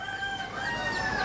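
Chickens and a rooster near a pond, clucking and crowing together, loud and close in a continuous jumble of calls.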